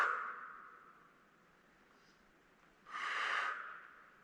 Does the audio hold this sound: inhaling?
yes